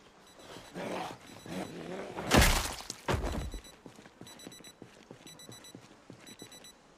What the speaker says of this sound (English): Full 24/7 alarms going off.